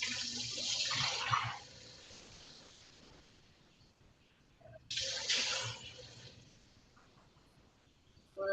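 Running water gushes into a plastic container being rinsed out at a sink, two strong bursts of flow with quieter trickling between them.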